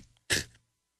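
A man gives a single sharp, loud sneeze close to the microphone on a live radio show. The burst is brief and followed by silence.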